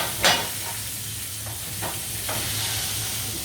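Duck breast sears in a hot pan with a steady sizzle and hiss, broken by a few soft scrapes and stirs as it is turned; no voices.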